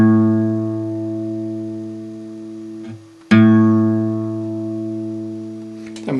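Guitar A string, the fifth and second-thickest, plucked as a tuning reference: a sustained harmonic note that fades, then is plucked again around the three-second mark and rings on alone.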